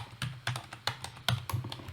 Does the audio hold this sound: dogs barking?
no